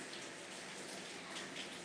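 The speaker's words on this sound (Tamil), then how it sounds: "இங்கேயுமே வந்து மழை தான்." Rain falls steadily outside, a soft even hiss of countless drops on surfaces with no breaks, faint and distant, with no one speaking.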